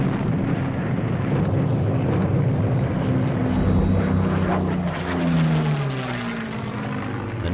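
Aircraft engines droning during massive WWII aerial attacks on British cities in 1940, a loud continuous rumbling roar with steady propeller hum and slowly shifting pitch throughout, no voices.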